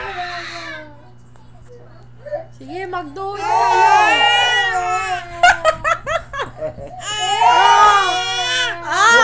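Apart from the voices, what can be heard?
child crying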